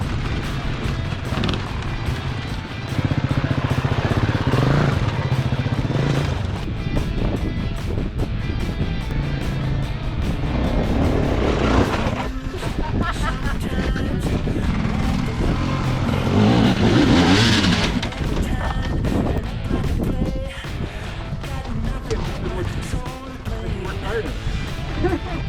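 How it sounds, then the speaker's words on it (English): A hot-wired motorcycle engine runs in the desert, a loud steady rumble that rises and falls with revving for the whole stretch. "Forgot the key, so we hot wired the bike. Trace the ignition wire taped up. Works like a champ."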